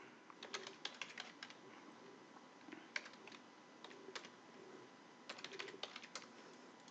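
Someone types an IP address on a computer keyboard, quick bursts of light clicking keystrokes in short clusters with pauses between, close and fairly quiet, with no talking.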